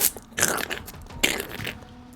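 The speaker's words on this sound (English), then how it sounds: "you hear a crunching sound now as though something is devouring the other giant fire beetle" Wet crunching and biting, as if a creature were devouring a giant fire beetle, comes in two or three close, loud bursts over a low ambient rumble.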